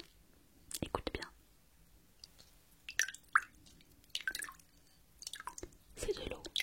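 Close-up water drips and wet squishes arrive in irregular clusters, crisp and intimate against near silence, mixed with soft mouth-like clicks in a French ASMR roleplay set in a cellar.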